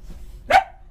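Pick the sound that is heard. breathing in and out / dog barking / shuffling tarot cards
dog barking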